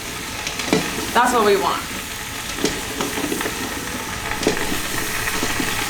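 Butternut squash cubes sauté in curry paste with a constant hissing sizzle and occasional stirring scrapes, close up, while a person speaks briefly over the cooking.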